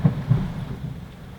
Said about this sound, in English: there's thunder and lightning and sunshine